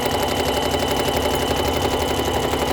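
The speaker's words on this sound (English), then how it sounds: "You press it down and you can just start stitching." Sewing machine stitching a test seam while the bobbin thread runs, a loud, steady mechanical whirr with a fast rhythmic needle patter that continues without break and with no voices.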